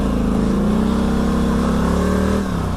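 Quad bike engine revving steadily while riding over a bumpy track, a loud, continuous close-up drone that rises slightly in pitch and then dips near the end, with no voices.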